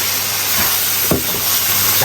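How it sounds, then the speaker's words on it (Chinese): Loud, continuous sizzling hiss of meat being stir-fried in a wok with sweet bean sauce, celery and daylilies, with a few clanks of tossing and stirring. "继续翻炒。"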